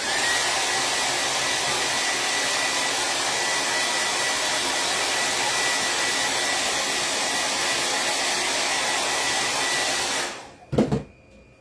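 A hair dryer blows steadily and loud on a craft project, a patriotic-themed vintage truck piece, running alone for about ten seconds before cutting off with a brief clatter.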